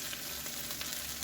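Chicken drumsticks fry in a pan, a steady, close crackling sizzle with dense little pops throughout and no talking.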